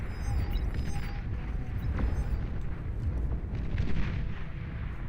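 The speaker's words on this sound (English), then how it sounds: "There's a big EMP missile headed out there." Heavy rumbling blasts and explosive impacts from missile strikes in the strategy game Nation Wars, a dense continuous barrage of booms with a low roar, loud and near throughout.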